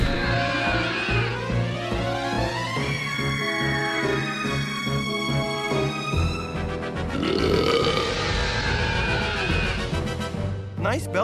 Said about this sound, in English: Nice belching.